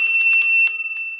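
Several quick metallic rings from a small souvenir replica of the Liberty Bell, bright and close, struck in a rapid cluster and then once more before fading.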